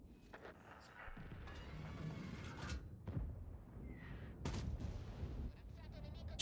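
Tank cannon fire in World of Tanks booms out in several faint, scattered sharp blasts amid game background noise, with no speech over it.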